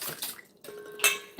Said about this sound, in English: So I'm just gonna mix this up.